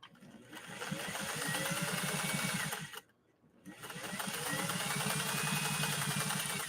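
A 1962 Singer 500A sewing machine runs steadily while stitching a decorative pattern, its motor buzzing and needle chattering loud and close, with a brief pause near the middle before it resumes at the same pace.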